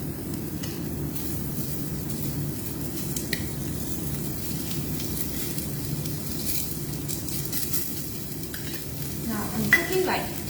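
Small salmon pieces searing in a hot empty pot give a steady, close sizzle with soft stirring and scraping throughout, plus a few sharper clinks near the end.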